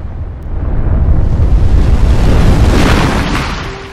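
Ares' death in the game God of War sets off a thermonuclear-sized blast, a loud roaring rush of broadband noise that swells, holds and slowly fades over several seconds.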